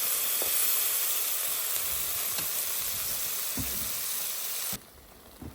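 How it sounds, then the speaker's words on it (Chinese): Spring water poured into a hot pot of spicy pork trotters gives a steady, loud sizzling hiss with a few pops, then drops away sharply near the end. "再加入山泉水来收汁"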